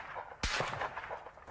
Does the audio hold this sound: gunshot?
yes